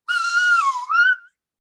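A teacher whistles to imitate a knife sharpener's call: one close, clear whistle of about a second that slides down and then back up, ending in a brief rising flourish.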